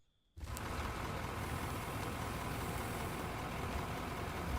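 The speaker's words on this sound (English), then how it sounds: "Engine start, maybe." A truck engine in the mining game Out of Ore starts abruptly from near silence and settles into a steady, loud, rumbling idle that continues unchanged to the end.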